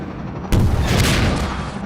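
A loud, sudden rocket blast or explosion bursts out and rumbles on heavily during a Half-Life 2 fight, filling the space with dense low roar after the sharp onset.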